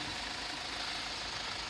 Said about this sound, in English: engine's nice and quiet too. We've left that running so you can hear that.